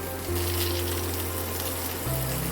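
Sliced tofu sizzling in a lightly oiled pan, a steady continuous fry hiss with a low hum underneath, slightly louder after the first moment and shifting again near the end.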